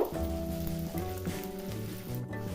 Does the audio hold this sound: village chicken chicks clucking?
no